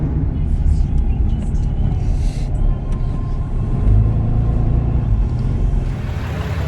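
Steady low road rumble and engine drone from inside a diesel vehicle driving north on a rooftop tent rally, a constant close hum with no distinct events.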